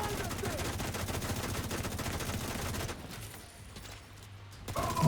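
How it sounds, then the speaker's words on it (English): Rapid video game gunfire, dense automatic bursts rattling continuously for about three seconds, then fading to quieter ambience with a final burst of noise at the end. "I'm taking a lot of fire here!"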